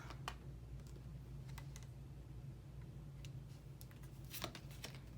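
Cards being shuffled and drawn from an oracle deck in a quiet room, soft scattered ticks and brief riffling flicks, faint and close, with no talking.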